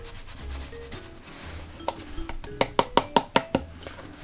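A container of black pepper, thyme, onion powder, garlic powder and salt is shaken, soft rubbing rustles giving way to a quick run of sharp rhythmic rattles close by.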